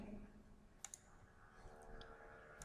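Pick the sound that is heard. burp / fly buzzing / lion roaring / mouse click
mouse click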